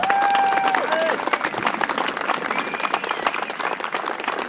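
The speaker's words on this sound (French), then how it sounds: "je demande une troisième ovation" An audience gives a standing ovation to the president of the Patrick Pons fan club at a motorcycle festival, with loud sustained applause and scattered cheers, and a voice briefly heard at the start.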